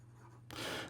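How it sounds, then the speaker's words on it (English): Platinum Izumo fountain pen with a coarse nib writing on paper, a quiet scratchy scrape that sharpens into a louder, close-up rub of nib on paper partway through. "Here we go with the writing sample for the Platinum Izumo"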